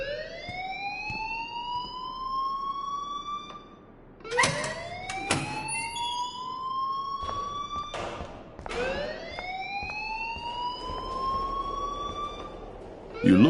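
An alarm sounds in the Life is Strange video game, a wailing siren whose pitch rises again and again in cycles of about four seconds. It is steady and moderately loud, with a few short knocks between the rises.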